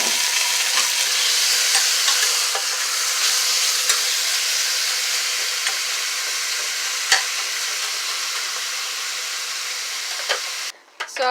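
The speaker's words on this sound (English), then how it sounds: "Now, into my hot oil, I'm adding in my pieces of seasoned beef." Seasoned beef pieces fry in hot oil with a steady, loud sizzle and hiss that runs unbroken throughout, with occasional faint clicks and pops on top.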